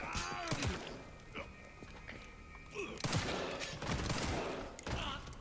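Gunfire rings out in the Resident Evil 9 survival horror game, with several sharp, scattered shots and impacts mixed with game noise, moderately loud and irregular over a few seconds.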